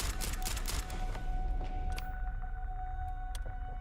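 Rapid rifle fire in the video game Starfield, a dense burst of close, loud shots in the first second, then a few sparser cracks trailing off over a faint tonal hum.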